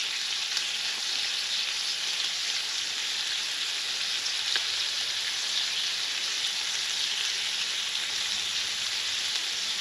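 Eggs fry in a skillet outdoors at a bushcraft lean-to in the Alabama woods, giving a steady, dense sizzle and crackle that stays even from start to finish, with no one talking.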